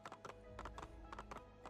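Horse hooves clip-clop in the Assassin's Creed 2 video game, a quick, even rhythm of sharp hoof strikes at a trot, fairly close and quiet, with no talk over it.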